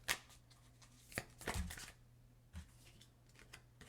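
Self-care cards being shuffled by hand, a few quick riffling bursts and soft slides, quiet and close with pauses between.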